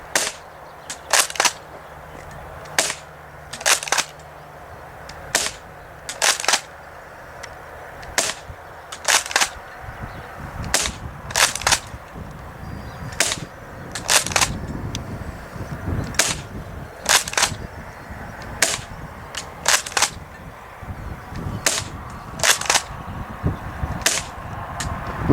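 Spring-powered airsoft M37 shotgun firing BBs outdoors: a series of about twenty sharp, close cracks at a steady, fairly rapid rhythm over a low background hum, with no talk.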